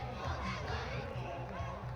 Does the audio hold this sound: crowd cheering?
yes